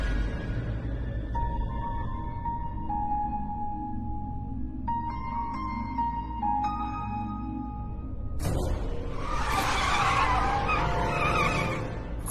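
A car driven fast screeches into a long, loud tire skid, engine tone shifting beneath steady road noise before a harsh burst of squealing near the end.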